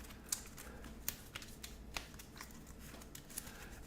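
Playing cards from a Call to Adventure deck being shuffled by hand for a solo game, a quiet steady riffling with a few sharper card snaps, no talking.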